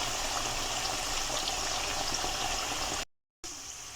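Potatoes fry in hot oil in a pan, a dense steady bubbling sizzle at close range, unbroken apart from a brief dropout near the end, with no voices.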